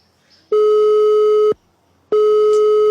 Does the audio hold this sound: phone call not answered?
yes